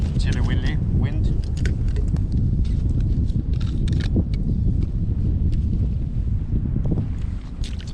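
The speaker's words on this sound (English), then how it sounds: "The wind is a little chilly now." Chilly wind gusts roughly across the microphone on a lake during bellyboat fishing, a loud, continuous buffeting rush with faint knocks over it.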